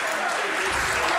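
Applause from a live audience at a World Poker Tour invitational tournament, a steady, dense wash of clapping hands that fills the short moment without pause.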